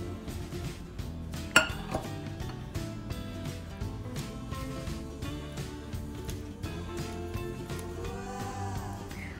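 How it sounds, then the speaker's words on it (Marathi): Utensils clink and scrape steadily in a mixing bowl as boiling milk is worked into sponge cake batter by hand, a faint, continuous rhythm over soft background music. "आणि आता मी हे उकळतं दूध घालते."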